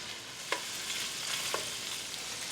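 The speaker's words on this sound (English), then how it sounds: "I just want to saute it in the skillet until it starts to turn spotty brown" Precooked sausage sautés in a skillet with a soft, even background sizzle, broken by a couple of brief clinks from a spatula or utensil against the pan and no talking.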